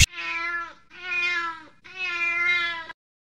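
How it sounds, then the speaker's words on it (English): Three drawn-out, tonal cat meows follow one another closely, loud and clean, played as an enemy sound effect in the video game Adventure at C:, then silence. "This is a cat."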